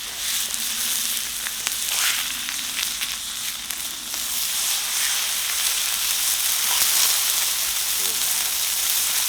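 Wagyu beef steaks sizzle loudly in a hot pan after being flipped, a dense continuous crackling hiss up close with brief spits and pops throughout.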